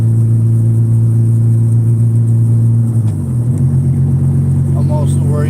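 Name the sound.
Honda Civic with stick shift being driven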